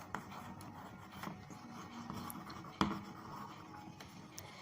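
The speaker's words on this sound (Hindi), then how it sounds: "चलो तो पहले लिखते हैं हियर" A pen scratches across paper while a maths exercise on arithmetic progressions is worked out, making soft, continuous rubbing strokes with a few sharper taps, close and fairly quiet, with no talk.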